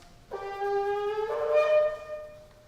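One sustained tekiah blast of a shofar during a Yom Kippur service, a bright, harmonic horn tone rising in pitch partway through and holding for about two seconds, loud against a quiet room.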